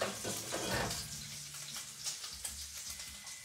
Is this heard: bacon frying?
yes